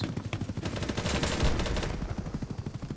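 Rapid automatic gunfire from a Vector submachine gun in a first-person shooter, sustained bursts of fast, evenly spaced shots rattling loud and close with no voices over them.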